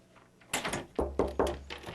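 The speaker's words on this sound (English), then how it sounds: "knocking before entering an exam room" Quick knocks on an exam room door, three firm raps in rapid succession after a soft shuffle, close and fairly quiet.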